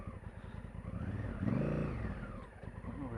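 A heavy motorcycle of over 200 kg labors up a short, steep dirt climb, its engine revving up and swelling loudly mid-climb before easing back, with steady throbbing and close, rough mechanical tone.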